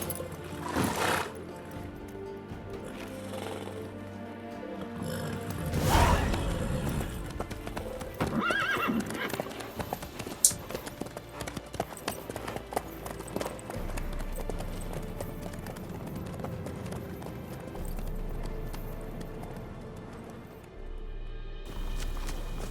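Horse hooves clip-clop steadily in The Witcher 3, a continuous rhythmic trot mixed with the horse's whinnies and game ambience, close and fairly loud throughout.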